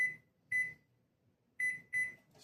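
Kitchen timer beeping in a quiet room, four sharp high-pitched beeps in an uneven pattern, close and clear with nothing else sounding between them.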